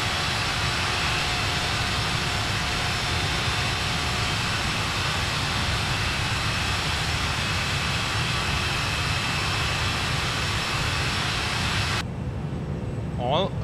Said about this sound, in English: this completes the first takeoff on the A340-300